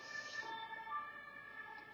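Ambulance sirens wail steadily at a moderate distance, a sustained tonal cry with slight pitch movement continuing throughout, no talk over it.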